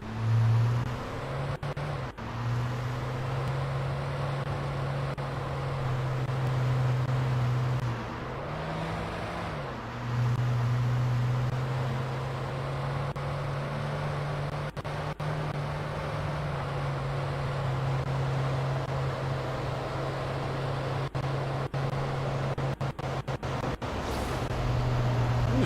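Steady low engine drone from a car driven in Alan Wake, holding a constant hum with a brief dip midway, loud and continuous with no talk.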